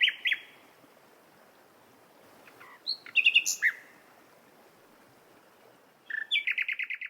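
A nightingale in the UK sings in short bursts of clear whistles, trills and rapid repeated notes, separated by pauses, over faint steady background noise.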